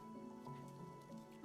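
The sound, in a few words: watering plants with a watering can in the video game Wanderstop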